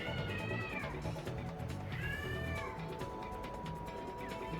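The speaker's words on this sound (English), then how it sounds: "That's my sister's cat in the background if you heard that." A house cat meows repeatedly somewhere in the background, several drawn-out, rising and falling cries spread across a steady bed of game music and noise, fairly faint but clearly audible.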